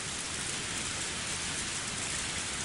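Torrential rain pours in the Higurashi visual novel as a dense, loud, unbroken roar of falling water that fills the scene evenly with no breaks and no voices.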